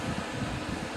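A portable air conditioner fitted to a crank-out casement window runs with a steady, even whoosh of fan noise, continuous and unchanging, with no voices over it.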